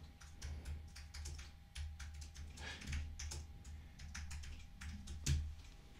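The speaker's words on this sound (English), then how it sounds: "Let me type it in." Quiet, steady keyboard typing clatters in quick irregular runs of keystrokes, close but soft, with no talking over it.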